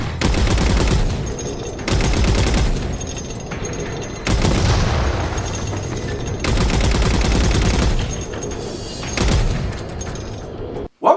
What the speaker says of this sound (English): when I needed to use the gun, I had to stop and get out